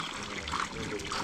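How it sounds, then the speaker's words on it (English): A foot dipping into hot spring water of about 30 to 35 degrees in Egypt: brief close sloshing and trickling with soft splashes, continuous throughout the short moment. "let's do a toe dip right now to see how warm it is"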